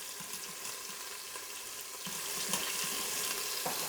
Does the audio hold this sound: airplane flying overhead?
no